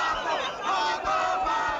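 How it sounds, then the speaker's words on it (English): A crowd of young patriots cheers and shouts in celebration, a dense roar of many voices rising and swelling steadily, loud and close throughout. "The crowds rejoice as the young patriots seize the northern cities."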